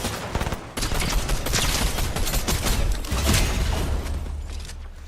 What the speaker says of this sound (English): I think I just got shot out from behind